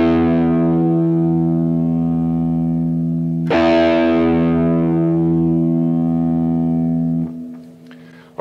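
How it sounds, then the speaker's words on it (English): Electric guitar low E string played through a Guitar Rig preset, a single sustained distorted note ringing out, then restruck about halfway and left to decay, with no talk. "I'm going to play you my low E string for your tuning reference so you can tune up and play along with this lesson"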